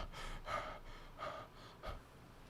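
A man imitates heavy panting with his voice, three breathy gasping exhalations in a steady rhythm, close and fairly quiet.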